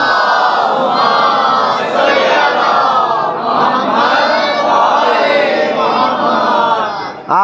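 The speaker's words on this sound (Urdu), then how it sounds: "اتنی بلند صلوات پڑھ دیجئے عظمت محمد و آل" A large mourning gathering on the fifth of Muharram loudly recites salawat together, a dense chorus of many voices rising and falling in unison for several seconds, close and powerful.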